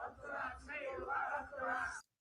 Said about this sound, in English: And they're singing Up the Ra.